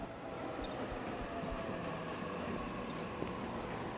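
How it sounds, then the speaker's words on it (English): A train pulls in within the video game 13 Sentinels, a continuous rumble of rolling wheels with faint squeals and a high whine, no voices over it. "There's the train."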